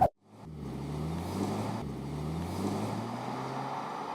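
A 2024 Alfa Romeo Stelvio facelift is driven at normal pace, its engine a steady low hum inside the cabin that rises slightly through two gear pulls after a brief sharp click at the start.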